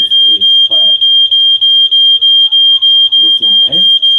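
Standalone smoke detector alarm sounding a loud, shrill continuous beeping in rapid regular pulses close by, with a person speaking faintly underneath.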